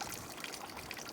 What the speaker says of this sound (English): It's coming down a tube, and it's going through this little spray apparatus over the grain bed